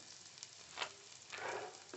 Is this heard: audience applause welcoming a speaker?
no